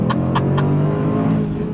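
A 2022 Range Rover Sport SVR Bespoke Edition engine accelerating hard, a loud close roar rising steadily with a few sharp crackles near the start; no talking.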